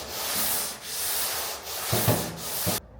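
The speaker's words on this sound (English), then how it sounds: "I'm going to give it a good longboard block with some 80 grit" Long strokes of a longboard sanding block with 80 grit paper rasp across an epoxy-primed car boot lid panel, a rhythmic back-and-forth scraping that swells and fades with each pass, close and alone, then stops abruptly.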